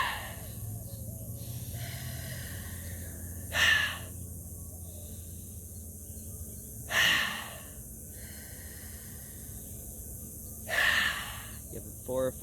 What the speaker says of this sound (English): A couple big audible breaths.